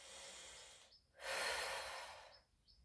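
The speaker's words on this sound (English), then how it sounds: "2 or 3 breaths in and out." Slow, audible breaths in and out while holding a wrist and finger stretch, with a long exhale followed by a pause and another drawn breath, close and fairly loud, no talking.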